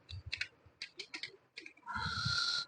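Keystrokes on a computer keyboard, a scatter of quick, close clicks in short bursts, then a denser stretch of continuous tapping, with no talk.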